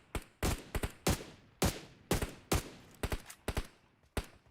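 Gunfire in the mobile battle royale PUBG Mobile during a championship match: a rapid sequence of about a dozen sharp, crisp shots in quick bursts, some doubled, close and punchy with no voices.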